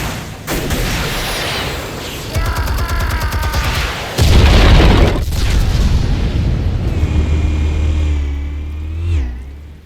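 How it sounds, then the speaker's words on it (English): Explosives detonate in the video game Batman: The Telltale Series, with a loud booming blast and rumbling debris over a low engine-like drone, followed by a fading roar. "Explosives armed. Fire when ready."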